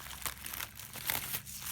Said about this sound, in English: I started cutting this open